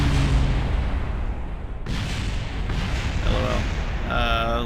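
A rocket explodes at launch in Kerbal Space Program: a sudden broadband boom bursts through ongoing game rumble, with a voice and light tonal game sounds near the end.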